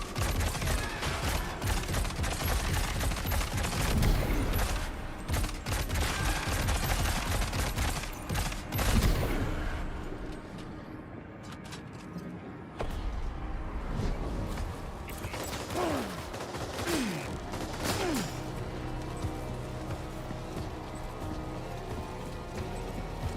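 Dense, rapid gunfire crackles through a Death Stranding 2 game scene, heavy bursts for several seconds before thinning into scattered shots and mechanical clatter at moderate loudness.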